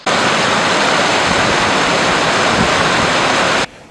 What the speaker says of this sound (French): où l'eau tombe avec fracas sur des rochers à plus de 30 mètres, créant des vagues successives